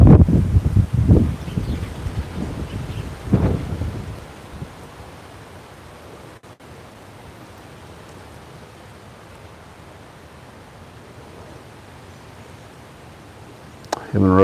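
Wind buffets a shaking camera out in a field, starting with loud gusty rumbles and rustles, settling into a low steady hiss, then flaring up again at the very end.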